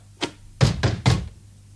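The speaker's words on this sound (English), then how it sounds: "It's a loud knock." A loud knock on a door: one light rap followed by three heavy, close thuds in quick succession.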